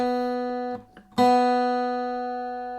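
A single plucked guitar G string rings out sustained and clear during tuning, is briefly damped, then plucked again and left to decay slowly.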